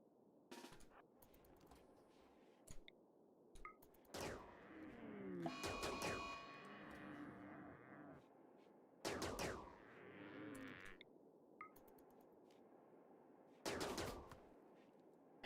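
Gunfire from a fight in the video game RimWorld comes as several separate bursts of rapid shots with quiet gaps between them, with one longer volley near the start and later short clusters.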